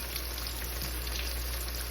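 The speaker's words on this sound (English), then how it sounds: "See how that's frying over there?" Catfish pieces sizzle and fry steadily in a hot skillet, a close, continuous crackling hiss with no pauses or talking.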